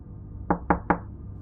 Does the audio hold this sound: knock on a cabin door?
yes